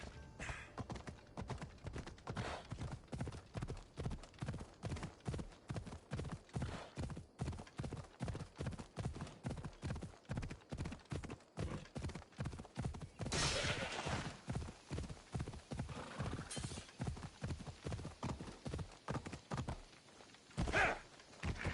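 Horse hooves pound in a steady fast rhythm, close and clear, for a long stretch as a rider gallops in Assassin's Creed Odyssey, with a few louder thuds and bursts breaking the beat.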